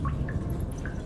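Water drips in an underground Underdark cave in a video game, a few small, sparse plinks over a low, steady ambient rumble.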